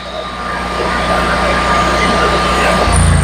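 A propane-powered generator engine runs steadily with a constant low drone and broadband rumble, holding loud and near throughout before shifting to a slightly rougher pitch at the very end.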